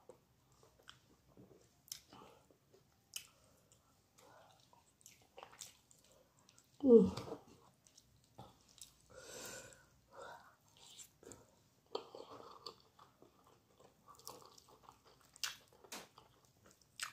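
Someone eats Nigerian ogbono soup with wheat fufu close to the mic, with soft sticky chewing, wet squishes and small mouth clicks, plus one louder mushy bite partway through.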